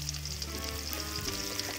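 Chopped onion, garlic and green chili fry in mustard oil with a steady close sizzle, while a spatula stirs and scrapes the pan now and then.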